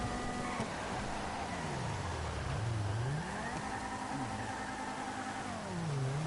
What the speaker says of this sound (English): As he's driving through Los Santos in the rain with a bashed up car